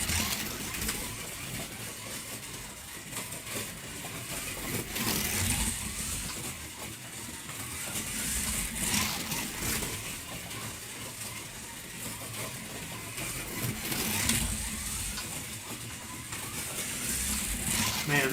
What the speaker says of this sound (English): Man, this Mazda, it just goes and goes. It is so smooth.